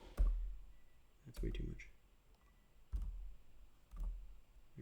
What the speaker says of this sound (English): Here I'm typing in the number.